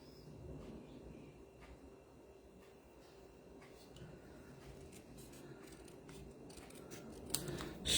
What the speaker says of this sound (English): I'm just going to cut that straight, well, hopefully straight across.